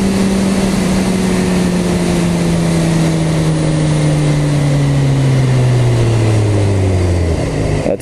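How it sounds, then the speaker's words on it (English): A BMW motorcycle accelerates hard, its engine droning loud and steady as the pitch climbs and drops through quick-shifter gear changes, with wind noise over everything. "That quick shift is pretty awesome."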